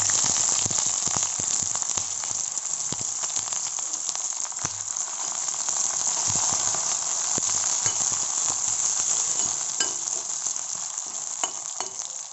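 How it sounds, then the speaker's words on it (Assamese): Onions sizzling steadily in hot oil in a home kitchen pan for a healthy fish curry, a continuous bright frying hiss with faint stirring ticks throughout, close and fairly loud with no talk. "তেল গৰম হৈ গ'ল, এতিয়া প্ৰথমতে পিঁয়াজখিনি দি ল'ম।"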